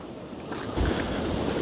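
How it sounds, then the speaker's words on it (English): Sea waves splash up against the shore at Dawlish Warren in Devon, a broad rushing wash of surf mixed with wind buffeting the microphone, swelling louder partway through and continuing steadily, with no voices. "the waves they're splashing up here"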